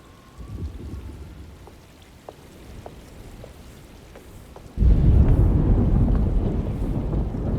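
A storm arrives in the video game Alone in the Dark (2024): a quiet, muffled ambience with scattered soft ticks gives way to a sudden surge of heavy, roaring rain and rumbling thunder that continues loudly to the end.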